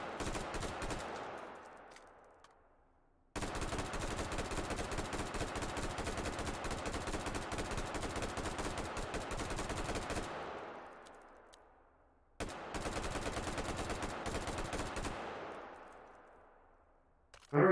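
Rifle fire in rapid bursts, loud and close, with long sustained strings of shots separated by brief pauses and reverberant tails, and no talking over it.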